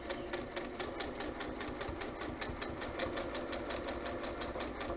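A sewing machine runs steadily while stitching bias binding onto fabric, giving a rapid, even mechanical chatter of needle strokes that holds a constant pace and stays close and clear the whole time, with no talking over it.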